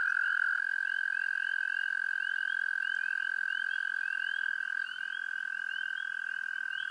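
An American toad's long, unbroken musical trill rings out steadily and close, lasting throughout, with softer chirping calls from other frogs layered faintly behind it and no talking.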